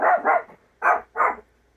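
A dog barks four times close by on a rainy morning in central Texas, a quick double bark, a pause, then two more sharp barks, no talk.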